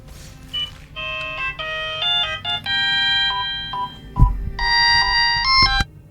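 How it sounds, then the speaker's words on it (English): A cell phone ringtone going off, a loud electronic melody of steady beeping tones in shifting pitches, repeating over several seconds with a few low thumps. "Well, that noise was actually my cell phone going off."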